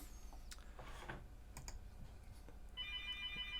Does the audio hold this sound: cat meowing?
no